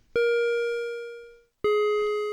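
Two synthesized tones from the nb drumcrow synth using a rebound bouncing-ball voltage shape, each a bright harmonic note struck sharply and decaying smoothly, the first ringing about a second and a half before the second begins, no talk.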